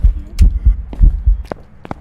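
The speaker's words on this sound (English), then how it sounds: "The heartbeat sound wasn't exploding in my ear" Ghost-event heartbeat in the Phasmophobia horror game, a loud, close, deep double-thump pulse repeating about twice per second, with faint higher clicks layered over the beats.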